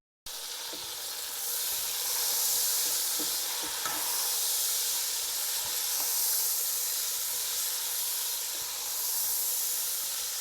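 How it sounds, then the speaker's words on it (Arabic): Sliced bell pepper and zucchini sizzle over high heat in a pan, a continuous bright hiss swelling as the vegetables hit the oil, with faint scattered stirring clicks, close and steady, no voices. "وهلأ منضيف الزوكيني،"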